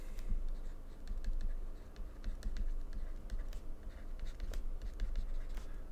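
A hand writes out Faraday's law of induction in a physics lecture: quiet, irregular scratchy strokes and light taps over a soft steady background hum.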